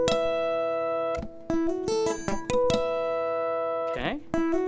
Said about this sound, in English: harmonic on the 12th fret of the 2nd string,